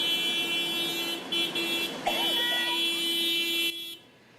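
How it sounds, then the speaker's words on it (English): School staff from Timber Lakes Elementary honk car horns while driving through neighborhoods, a long sustained horn blare that breaks briefly and then resumes before cutting off. "Dozens of staff members from Timber Lakes Elementary School drove through several neighborhoods to honk and wave at their students"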